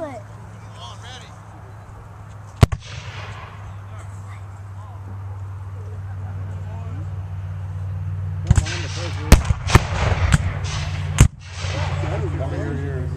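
Cannon fire at a Civil War battle re-enactment: a single sharp blast early, then a cluster of loud booms and cracks later over a steady low engine-like hum, with people talking in the background.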